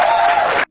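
A studio crowd at a rap podcast cheers and applauds in a loud, dense burst of noise for just over half a second, then stops abruptly.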